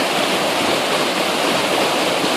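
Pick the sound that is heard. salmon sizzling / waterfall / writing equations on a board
waterfall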